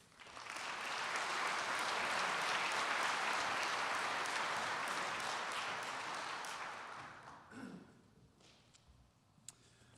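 Sustained audience applause at a State of the City 2018 event welcoming the McKinney ISD superintendent to the podium, a dense wash of clapping that swells, holds, then tapers off into a few scattered claps and room noise.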